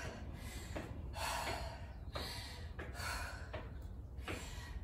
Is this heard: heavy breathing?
yes